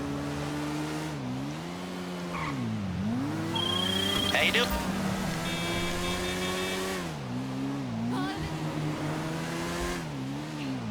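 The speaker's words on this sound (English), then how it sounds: "This is a standard motorcycle that I've got." A standard, unupgraded motorcycle engine in a GTA video game drones steadily, its pitch rising and dipping repeatedly as it revs and shifts, with occasional squeals and someone talking over it.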